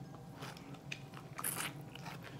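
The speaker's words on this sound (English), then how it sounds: "That's a good crunch." Crispy buffalo wings are bitten into close to the mic, giving a sharp crunch followed by chewing and crackling, with no talking.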